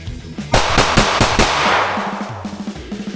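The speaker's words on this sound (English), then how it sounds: "Why did I have to miss that last shot so high just now?" A Springfield Prodigy 2011 pistol fires a rapid string of about five close, loud shots that ring out sharply, followed by quieter background sounds.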